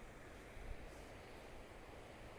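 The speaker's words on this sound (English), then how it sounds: "It's just that constant sound of the waves, that white noise." Ocean waves on the South Wales coast, a faint, constant surf roar like broad white noise with light wind, no distinct breaks.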